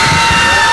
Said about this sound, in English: And the crowd goes crazy